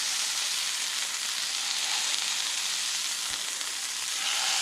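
Jimmy Dean hot sausage patties fry in a pan preheated to medium, a loud, steady, close sizzle that continues without break, with no talking.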